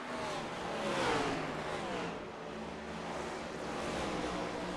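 Race cars in the iRacing sim on the Bristol Motor Speedway oval: a steady, dense roar of engines at speed, swelling and easing slightly as the pack passes, with no voices.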